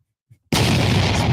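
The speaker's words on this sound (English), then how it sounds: "Explosion" A sudden explosion sound effect erupts after a short silence, a loud, dense roaring boom that sustains without fading.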